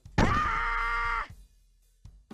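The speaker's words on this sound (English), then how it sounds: "you have to hear the kids scream in pain every time" A kid character in the PS1 game Rocket Power: Team Rocket Rescue lets out a single loud, drawn-out pained groan-scream after bailing, lasting about a second, followed by faint game sounds.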